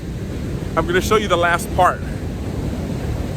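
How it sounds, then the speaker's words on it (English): Large ocean waves, around 15 to 20 feet, roar steadily in the background as a continuous rumbling wash mixed with wind noise, while someone speaks briefly over them near the middle. "Look at these waves, man."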